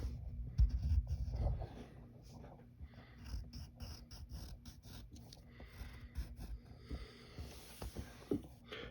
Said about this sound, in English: Then you're going to draw the lip.